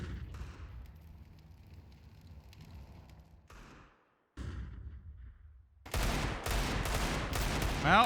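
Desert Eagle pistols fire in CS:GO on the map Mirage, a burst of loud, sharp shots rapidly overlapping near the end after quieter game ambience with a brief dropout.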